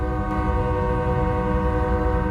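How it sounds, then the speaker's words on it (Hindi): A train pulling into a railway station, its horn sounding as a steady chord of tones over a continuous low rumble of rolling wheels and engine, loud and close throughout. "फिर ट्रेन धीरे धीरे करके रेलवे स्टेशन पर आकर रुक जाती है।"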